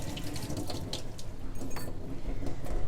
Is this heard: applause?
no